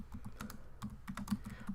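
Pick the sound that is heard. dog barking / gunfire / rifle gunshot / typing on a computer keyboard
typing on a computer keyboard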